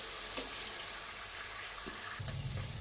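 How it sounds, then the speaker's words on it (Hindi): Paneer fries in a pan for Hyderabadi paneer dum biryani, giving a steady, fairly faint sizzling hiss with a few soft clinks from tossing and no talking. "देखिए पनीर अच्छी तरह से फ्राई हो चुका है।"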